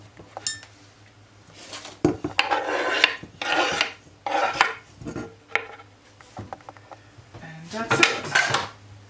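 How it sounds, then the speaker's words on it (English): Grated ginger is scraped off a metal grater into a pot, coming as repeated bursts of rasping scrapes and clinks with short pauses between, close and fairly loud, with a low hum underneath. "now I'm going to remove all the ginger from the grater"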